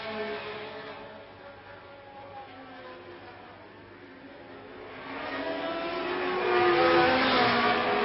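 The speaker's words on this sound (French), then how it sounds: "c'est là qu'on voit quand même que la Ferrari accélère davantage" A 1971 Ferrari Formula 1 car accelerates in the rain at the Dutch Grand Prix, its engine rising from a distant drone to a louder, higher wail over crowd and broadcast ambience.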